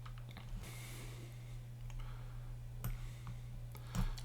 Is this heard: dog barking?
no